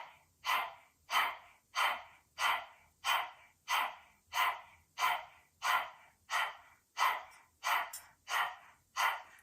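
Rhythmic forceful panting breaths during a yoga breathing exercise, about a dozen evenly spaced huffs, close and breathy, each swelling and fading, with no talking.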